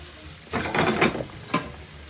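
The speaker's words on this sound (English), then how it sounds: "So you've got your onions going." Onions frying in a pan for pasta puttanesca, a soft background sizzle broken by a few louder bursts of crackling and stirring scrapes, close by and without voices.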